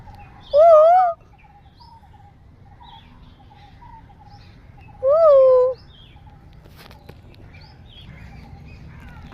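A koel calls twice, each a short, clear, rising whistled phrase several seconds apart, standing out over a faint steady outdoor background.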